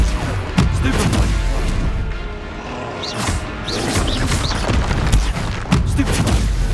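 Spell-casting in the game Hogwarts Legacy, including the Stupefy stunning spell, sounds as a continuous barrage of booming magical blasts and crackling impacts, loud and busy with repeated bursts throughout.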